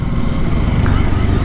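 A Bajaj Dominar 400 motorcycle fitted with an aftermarket open pipe exhaust gives a loud, close, continuous throbbing engine rumble, steady for the whole moment.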